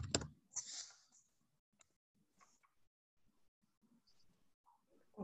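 A few scattered keystrokes tap on a computer keyboard, faint and close in a quiet room, with long pauses between the clicks.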